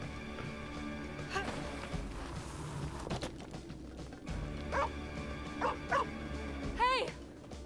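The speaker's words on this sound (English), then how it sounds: "The dog's always barking." A dog in a video game barks and yips in short bursts, several sharp yelps and a whimper toward the end, over low background game music and rumble.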